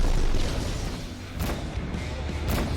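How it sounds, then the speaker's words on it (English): A capital ship blows apart in the space combat game Rebel Galaxy Outlaw, a loud, dense roar of blasts and crackling bursts that runs throughout, with brief sharper bangs standing out near the middle and end. "the audio sort of peaks out when a capital ship gets blown up"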